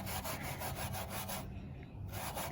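Paint is rubbed onto a plastic gas cap with a cloth, a close, steady scratchy scrubbing in quick repeated strokes that briefly stops and then starts again.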